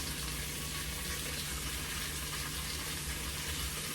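Food searing in a pan on a home stove as dinner cooks, a steady broadband sizzle and crackle holding constant throughout with a low electrical hum beneath, no talking.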